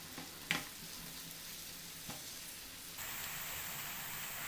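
Chicken frying in a pan as it is stirred and coated in a caramelizing honey glaze, giving a steady quiet sizzle with a couple of soft clinks and a louder hiss near the end.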